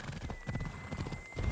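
Horse hooves clip-clop steadily in Assassin's Creed Odyssey, a quick rhythmic run of thuds at moderate loudness, with a brief whinny and game ambience mixed in.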